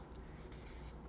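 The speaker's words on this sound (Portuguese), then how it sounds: "Então eu vou escrever lá." A teacher writes a sentence on a board, a brief soft scratching stroke of the writing tool, faint and close, with no talk.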